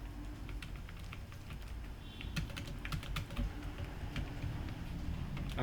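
Rapid, uneven keystrokes tap on a computer keyboard as a C for loop is typed, a steady close clatter of light clicks with brief pauses, no voice.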